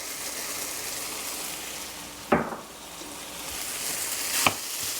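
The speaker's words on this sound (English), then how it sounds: "I'm gonna throw in our leftover steak from the other night that I just cubed up" Leftover cubed steak warming in a hot pan gives a steady, close frying sizzle, with two brief louder clatters as pieces are tossed in or stirred.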